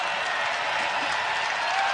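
Steady applause from a large crowd at a women's college basketball game between Oklahoma and Iowa State, a dense continuous roar of clapping that fills the whole moment without letting up.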